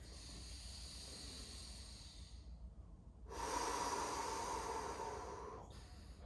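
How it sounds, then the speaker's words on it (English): Deep breaths are drawn in and let out during a mobility breathing exercise, with a soft airy exhale followed by a louder, longer rushing inhale through the mouth, close and alone. "breathe through the mouth, fully in"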